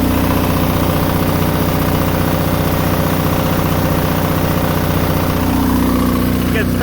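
An Onan DJA/DJB/DJC generator engine with a 12 kilowatt head runs loud and steady at idle nearby, a constant low thrumming rumble with slight vibration and a faint rattle near the end.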